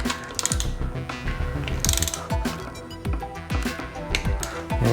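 A hand wrench ratchets steadily while torquing head bolts on a Yamaha YFZ450R engine, with rapid metallic clicking in bursts and repeated pulls, loud and close.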